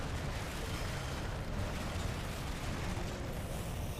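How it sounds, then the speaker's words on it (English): A building collapsing after a rocket explosion in the video game Crackdown 3: a dense, sustained roar of rumbling debris and blast noise, loud and continuous without a break. "Boom, and it takes out that other building over there"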